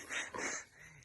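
A happy, excitable dog in a spring front garden lets out a short, high whimpering whine lasting under a second, close by and fading at the end.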